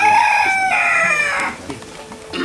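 Laying hens crow loudly and close by in a long drawn-out call, followed by quieter clucks and a short final squawk.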